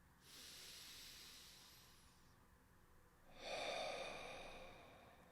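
Two long, deep breaths during an EFT tapping exercise, each a steady, airy rush with the second one louder and closer, heard alone without talk.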